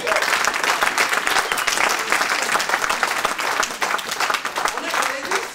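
A church congregation applauds in a dense, steady wash of clapping that runs loud and continuous for several seconds, with crowd voices mixed in.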